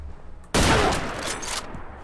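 Rapid automatic gunfire from the XM2076 weapon in a Fallout 4 mod, opening abruptly in a loud, dense burst of shots that rattles on for over a second before cutting off, with no talking.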